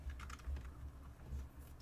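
Fingers type on a budget DP Power computer keyboard set on a table, producing quick soft clatters of keystrokes close by.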